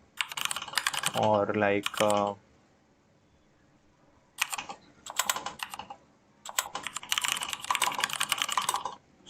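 Rapid keystrokes rattle from a computer keyboard in dense clicking bursts during a coding session, broken by a pause and resuming, with a voice briefly speaking partway through.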